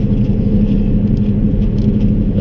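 A car drives on a snowy road with a steady, loud low engine rumble building as it accelerates, under constant road and tyre noise, close and continuous with no speech.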